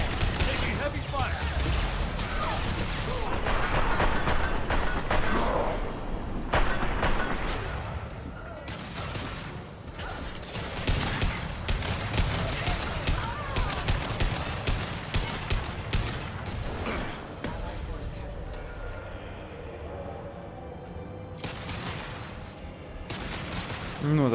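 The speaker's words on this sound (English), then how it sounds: "Taking heavy fire." Gunfire from a Mass Effect 2 Legendary Edition battle on Illium, with dense bursts of shots and impacts recurring throughout alongside game music and effects, and speech mixed in over the fighting.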